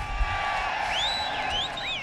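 A Dutch crowd cheers and whoops at a BMX Supercross event at Papendal, a steady roar of many voices with rising whistles and shouts carrying over it.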